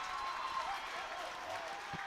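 Rugby stadium crowd at a women's Six Nations match against Wales, a broad steady wash of cheering and applause sustained throughout, with faint commentary voices under the noise.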